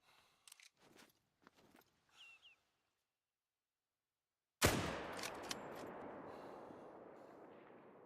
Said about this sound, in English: I'm gonna shoot this one first